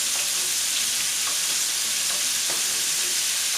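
Scallops sear in a hot pan while being caramelized, a steady close sizzling hiss running alone throughout with a few faint crackles and pops.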